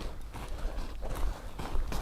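A horse walking during in-hand groundwork training, its hooves making soft, steady clip-clop footfalls close by over a noisy outdoor background.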